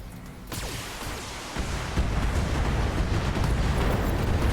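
Weapon fire sets off a sudden loud explosion in the BattleTech mech game, followed by a long, rising roar of rumbling blasts and debris that keeps building to the end.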